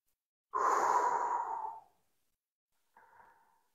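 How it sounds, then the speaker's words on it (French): Deep clavicular breathing exercise: one long, loud inhale-exhale lasting over a second, followed after a pause by a shorter, softer breath, with no talking. "Et essayez de respirer le plus haut possible."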